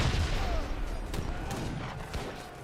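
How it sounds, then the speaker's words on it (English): Heavy cannons fire in Age of Empires 3 during a large battle, a muffled rumble of low booms and scattered distant shots that blend into a thick, constant battle din. "Heavy cannons firing away."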